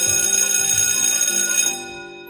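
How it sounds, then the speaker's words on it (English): A school bell in the video game Tiny Bunny rings out with a bright, sustained metallic tone for nearly two seconds before fading away. "The bell rang."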